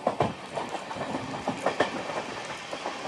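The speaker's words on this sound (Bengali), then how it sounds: "সাইরাং কলকাতা এক্সপ্রেস প্রবেশ করে গেল কলকাতা স্টেশনে" Sairang Kolkata Express train rolling into Kolkata station, a steady rumble with rhythmic clickety-clack of wheels over rail joints repeating throughout, fairly close and alone with no voices.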